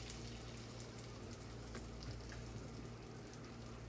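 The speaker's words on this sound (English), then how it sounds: "And we're just gonna fry these" Chicken pieces frying in a pan on a stovetop, a faint, steady sizzle with small crackles, no voices.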